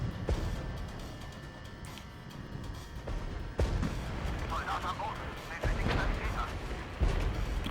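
Units firing in the Regiments video game: muffled artillery booms and scattered gunshot bursts under continuous talk, a few sharper thumps standing out over a steady battle rumble.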